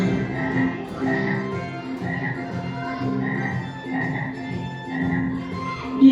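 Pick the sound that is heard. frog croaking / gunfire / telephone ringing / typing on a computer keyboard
frog croaking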